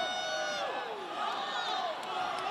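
Crowd at an MMA grudge match cheers and yells at close range, with shouting voices layered over a constant roar.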